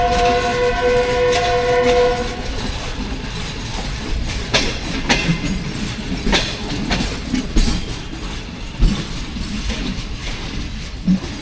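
Rawal Express train passing in dense fog, opening with a loud sustained horn blast, then a steady roar and rhythmic clatter of carriages rolling by close and loud.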